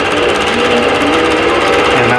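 A quilting sewing machine starts stitching on a vintage quilt, giving a fast, steady, loud mechanical whir and rapid needle rattle from start to finish.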